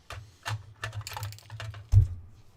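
Snips and clicks of cutting a plastic Churchill tank model part, the commander's hatch, from its sprue, a series of light sharp clicks close by with one louder snap near the end.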